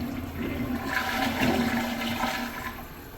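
A 4th-generation Gerber Maxwell toilet from the 2010s/2020s with a poor flapper flushes, a steady close rush and gurgle of water lasting a few seconds.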